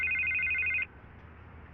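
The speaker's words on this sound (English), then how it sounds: "I can't get the phone to stop ringing" A telephone ringing inside a Batman video game: a steady electronic trill repeating rapidly, cutting off briefly, then starting again over a low background hum.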